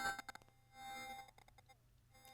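A sampled instrument named Pure, built from a crystal glass sample, rings out in soft bell-like tones, several struck notes in quick succession and then a sustained glassy shimmer that fades, quiet and alone.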